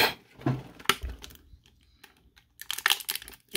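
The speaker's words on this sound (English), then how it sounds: "I'm going to have to cut them out with a knife" A knife cuts tape to free accessory hands from a Star Wars Vintage Collection Darth Vader action figure's packaging, with close, crinkly bursts of plastic and tape tearing, a sharp snap, then a quiet pause before more rustling.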